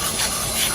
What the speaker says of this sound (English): I recommend getting some brake and clutch cleaner to clean up the old housing